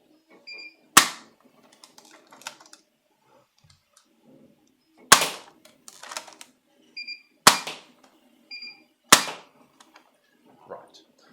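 Foam dart blaster firing darts loaded from the back, four sharp clicking shots spaced a few seconds apart, close and fairly loud, with faint handling noises between.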